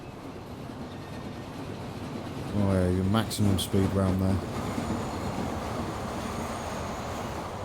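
A Fowler freight steam locomotive runs through the Transport Fever game world, its layered horn-like tones swelling for a couple of seconds over a steady rumbling rail background while someone talks.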